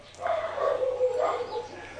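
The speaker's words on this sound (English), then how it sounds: "The dogs are barking." Dogs barking and yipping at a distance, a few rough woofs spread over two seconds above a low steady hum.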